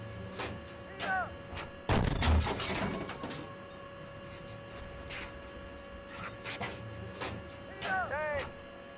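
Tank cannon fire in the Steel Beasts simulator: one sharp, loud shot followed by a rumbling tail, set against a quieter mechanical hum and scattered clicks and beeps, with a voice talking.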